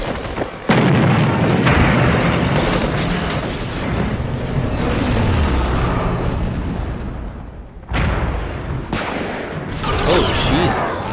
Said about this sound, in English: Guns are firing.